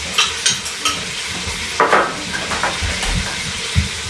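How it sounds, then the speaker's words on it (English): Beef browns and sizzles in an Instant Pot, a steady frying hiss broken by scrapes and clinks as the meat is turned, close and without talking. "now we're going to turn it over and brown the other side"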